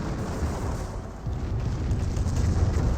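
Artillery shells explode in a Company of Heroes 1 match, heard as a continuous low booming rumble with dense bursts of impact at moderate volume and no voices over them.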